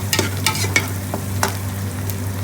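Onions stirred in a pan over medium heat as they caramelize for a Bangladeshi chicken shatkora curry, a close, continuous sizzle broken by several scraping strokes of the spoon over a low steady hum.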